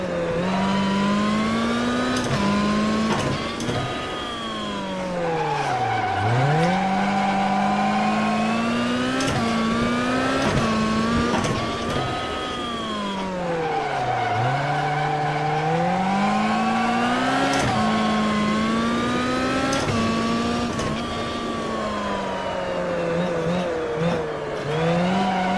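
Rally car engine in the AMS1 racing game revving hard with rising and falling pitch sweeps as the car is flung sideways on handbrake drifts, loud and continuous throughout with no talk.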